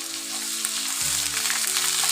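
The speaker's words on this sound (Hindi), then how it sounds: "मैं अदरक लहसुन का पेस्ट ऐड कर दूँगी।" Ginger garlic paste hits onions frying in a pan, sizzling loudly and steadily, with the hiss briefly shifting as the paste goes in.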